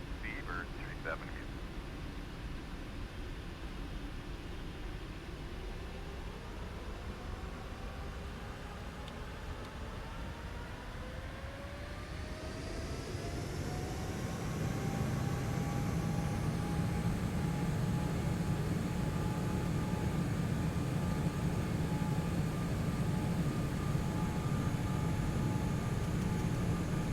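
Boeing 747-8 taking off from Heathrow runway 27 left, engine roar rising steadily from a low rumble to a loud sustained drone with a climbing whine, heard from inside the aircraft.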